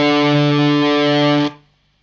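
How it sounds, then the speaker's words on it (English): On an electric guitar, a 12th fret harmonic and the open D string ring out together as one sustained, distorted note, holding steady and loud for about a second and a half before being cut off into quiet. "you could play a little 12th fret harmonic here, and that should sound exactly the same as that open D string"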